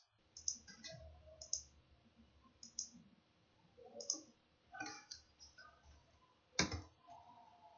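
Sparse mouse clicks while selecting form fields in a VBA form editor, a handful of short, crisp clicks spaced irregularly and close to the microphone, with faint keyboard-like tapping in between and no talking.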